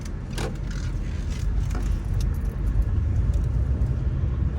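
A car speeds up along a road, a steady low engine rumble growing slightly stronger, with a few light clicks and rattles over it and no talking.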